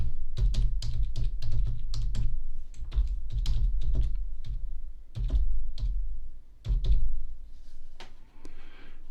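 Someone types an email address on a computer keyboard, loud close keystrokes in quick bursts separated by short pauses, with no talking.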